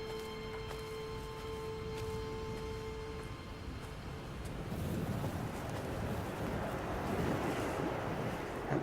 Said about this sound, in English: That wind sounds really realistic.